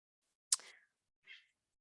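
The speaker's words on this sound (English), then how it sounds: "my cat just freaked out" A house cat freaks out indoors with one sudden sharp burst and a quieter short squawk about a second later, both brief and close against near silence.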